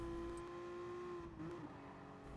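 Race car engine in Gran Turismo Sport on the Tokyo Expressway Central Outer Loop, a steady high-pitched drone holding under full throttle, with a brief pitch dip near the middle before it resumes, close and continuous with no talk.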